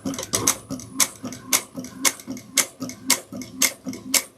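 A sewing machine stitches a sling pack in a steady run of sharp, evenly spaced mechanical ticks, close and loud, about two per second with no talk.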